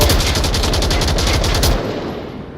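A loud, rapid burst of light machine gun fire rattles in the Onward VR shooter during a competitive scrimmage, evenly spaced shots hammering for nearly two seconds before cutting off into a fading echo.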